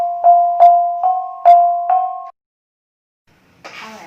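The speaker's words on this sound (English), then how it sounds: "To give you an example of how soft mallets sound in the kulintang" A kulintang gong struck five times with a mallet wrapped in a piano cover cloth, each note a soft, rounded, sustained tone in an even rhythm, followed by silence and a brief rustle.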